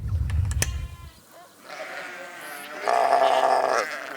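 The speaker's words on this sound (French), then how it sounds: "On fait du mouton Shropshire." Shropshire sheep on an orchard farm bleat in a few wavering calls, with some rumbling handling noise at first, then clearer bleats at moderate distance.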